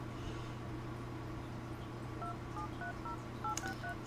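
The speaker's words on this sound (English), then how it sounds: "So she just makes one single phone call and they're all invited at the same time." Phone keypad tones beep one after another in The Sims 3, a rapid series of short dialing tones over a steady low game hum, with no talk.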